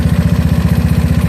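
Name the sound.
GY6 scooter engine running with OKO PWK 30mm carburetor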